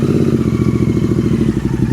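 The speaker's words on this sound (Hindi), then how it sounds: "अब जाने से पहले एक बार इसका एग्जॉस्ट साउंड तो बनता है।" Royal Enfield Interceptor 650 running without dB killers, its exhaust giving a loud, close, steady throbbing rumble with rapid low pulses throughout.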